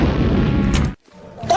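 A loud explosion sound effect in a text-to-speech compilation bursts in, then cuts off abruptly into near silence before a faint sound returns.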